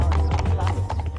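Horses' hooves clip-clop on a road during a ride, quick close steps under a constant low rumble, with a voice talking over them.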